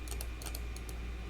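A single computer keyboard key tapped as a drawing-program shortcut, a few quick, light clicks close by over a low steady room hum, with no talking.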